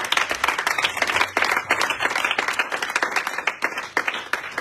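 A church congregation bursts into sustained applause and cheering for the Holy Spirit during a French-language sermon, dense clapping that rises and falls in loudness across the whole stretch.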